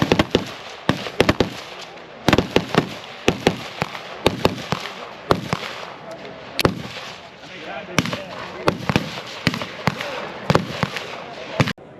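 Shots from a Smith & Wesson Bodyguard 2.0 compact pistol: a long run of sharp, loud reports fired in quick irregular strings with brief pauses, and voices audible between the shots.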